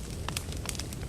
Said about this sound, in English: You can see I've got the bonfire going.